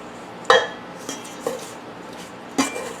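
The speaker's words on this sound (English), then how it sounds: "you're going to take a big spoon and we're just going to coat all of this" A big spoon stirring carrot fritter batter in a bowl, with four distinct clinks of metal against the bowl spaced irregularly over soft scraping, close and clear, no voices.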